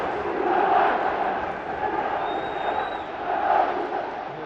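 Steady roar of a football crowd at Bramall Lane during a Sheffield United match, swelling twice as the home side wins a corner, dense and continuous with no voices standing out.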